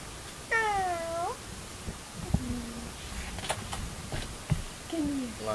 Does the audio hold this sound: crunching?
no